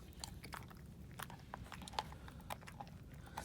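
Dogs gnaw on frozen raw food taken straight from a deep freezer, giving faint, irregular crunches and bites over a low, steady background rumble.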